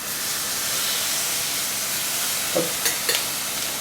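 Salmon pieces searing in a hot frying pan give a steady bright sizzle and hiss throughout, with a few short clatters near the end and a brief spoken word over it.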